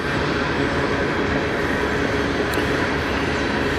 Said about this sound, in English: I gotta let this train go by, man. This train is loud.